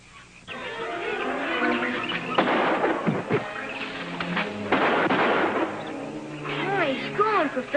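Gunfire in a 1955 jungle adventure television scene, a few sharp, loud cracks scattered among voices and other busy sound.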